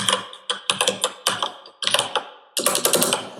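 Typing on a computer keyboard to enter a URL path, close and clear: bursts of rapid key clicks separated by short pauses, ending in a dense flurry of keystrokes.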